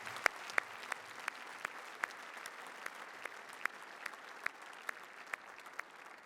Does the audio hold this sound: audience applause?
yes